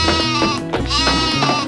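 Goat bleating during a children's goat race in a cartoon: several loud, wavering bleats in quick succession, close and clear, with no talking.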